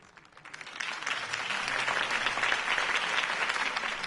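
In a video game, a crowd breaks into applause after a political speech, rising quickly from quiet into a sustained, dense patter of clapping that continues to the end.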